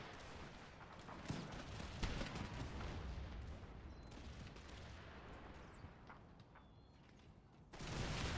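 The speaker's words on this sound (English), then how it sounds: "You guys are now firing onto them." Musket volleys and artillery fire from a battle in Empire: Total War, a dense continuous roar of crackling gunfire with scattered louder booms, sustained throughout at moderate level and swelling again at the end.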